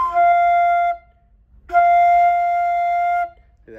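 Flute sounding the note F, played by a beginner as two clear, steady sustained tones separated by a short pause, alone and close with no talking.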